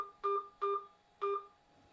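Three short dual-tone telephone keypad beeps, steady and evenly spaced, punched in while keying an account number into an automated utility billing phone line, with near silence between presses.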